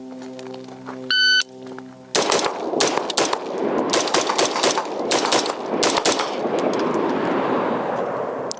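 A start-timer beep, then rapid bursts of gunfire from a New Frontier Armory G4 rifle at a shooting drill, loud close shots in fast strings with steel-target pings.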